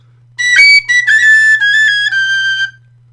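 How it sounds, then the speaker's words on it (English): A tin whistle sounds a sustained high note with clear harmonics, played alone in a few short phrases with slight articulations, close and fairly loud over a faint low hum. "I can play a G sharp like this. Most of my other whistles will not do it"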